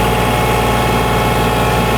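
Loud, steady drone of a Kubota L2502 tractor engine working under load as it lifts a heavy front loader, close and continuous with a deep vibrating hum and no talk.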